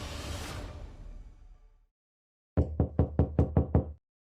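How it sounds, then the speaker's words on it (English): A fading whoosh is followed by a pause, then a firm sequence of seven evenly spaced knocks on a wooden door, close and distinct, in a horror audiobook sound effect. "There was a knock at the door."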